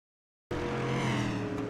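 Dirt street stock race cars start up at a speedway, a sudden loud, steady engine roar with a low harmonic drone that holds close and continuous after a moment of silence.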